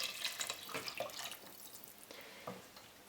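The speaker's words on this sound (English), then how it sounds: "So now you add all your veggie broth inside." Vegetable broth poured into a soup pot of leek and potato soup makes a close, splashy liquid gurgle that comes in uneven bursts and gradually softens.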